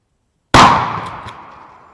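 A single loud shotgun blast from a Cooey model 84 or Mossberg 835 Ulti-Mag firing a 2 3/4 inch turkey load, a sharp close report that rings and decays over about a second and a half.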